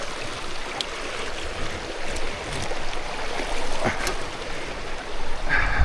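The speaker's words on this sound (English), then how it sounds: "Little stream crossing." A small stream is crossed on a Raleigh Chopper bike, with running, splashing water and faint clicks and knocks throughout, growing louder at the end.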